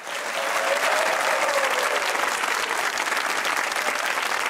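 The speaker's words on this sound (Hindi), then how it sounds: "अगर आप लोग भी दूसरों को खुश देखना चाहते हैं तो तालियां बजाइए" A studio audience on a TV comedy talk show claps in a dense, continuous burst that swells quickly and holds steady for several seconds, with no talk over it.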